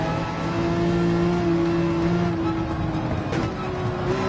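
A race car engine in Gran Turismo 7 during an online daily race, a loud continuous buzzing roar that holds a steady pitch then shifts as the revs drop, with no talk.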